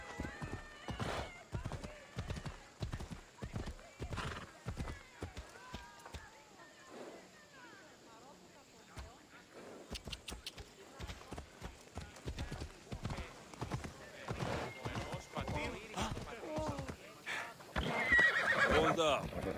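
Horse in the video game Assassin's Creed Odyssey, close and loud, with steady rhythmic clip-clop hoofbeats running throughout and a neigh toward the end, mixed with game ambience and brief voices.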